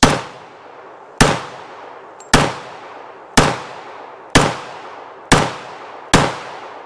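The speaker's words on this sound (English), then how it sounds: "let's try a full mag through the Colt-ish gun" Seven evenly spaced, sharp, loud shots from a Colt-style .45 pistol firing a full magazine at a range. Each crack is followed by a short ringing decay, with roughly one-second gaps between shots and no voices.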